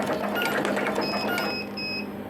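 An automatic wire cutting and stripping machine runs with a busy mechanical whirr and rapid clicking, joined by a few high thin whines partway through, close and steady with no talking.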